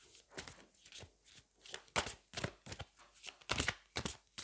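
Tarot cards being shuffled by hand, a series of soft papery riffles and slaps coming in uneven bursts, close and fairly quiet, with no talking.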